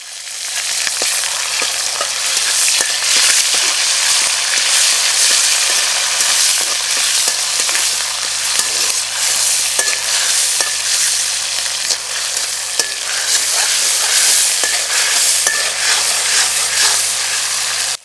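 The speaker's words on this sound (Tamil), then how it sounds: "இப்போ அரைச்சி வச்சிருந்த இஞ்சி பூண்டை இப்போ இது கூட சேர்த்துக்கலாம்." Ginger garlic paste frying in oil with mustard seeds and curry leaves, a loud continuous sizzle with crackling pops and stirring scrapes throughout.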